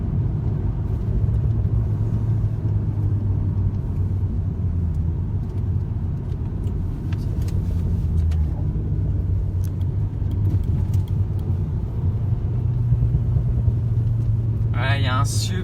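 Engine of a new Alpine A110 on the move along a road with snow on the verges, a steady low rumble and drone that runs throughout, with people talking over it inside the cabin.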